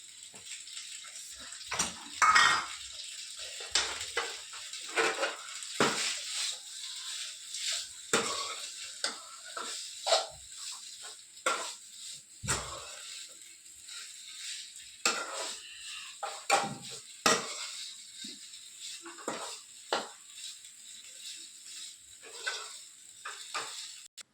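Coriander goes into a pan on a gas stove with scattered sizzling, clinks of utensil against the pan and stirring scrapes, irregular bursts of sound over a quiet background, close by, with no talking.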